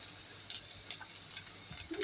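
Garlic, dried and green chillies and onion frying in hot oil, a steady close sizzle with a few sharp pops and crackles breaking through and a light stirring scrape near the end.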